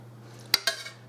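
A pressure cooker lid is set down and closed over a lasagna, making two sharp metallic clacks a moment apart, close by and fairly quiet, with a low steady hum beneath.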